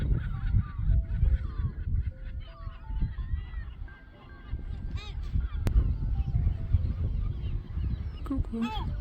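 Gulls calling among coastal rocks on the Île d'Yeu, a mix of honking, squealing cries rising and falling near the listener over steady wind and surf noise, with a sharp click partway through.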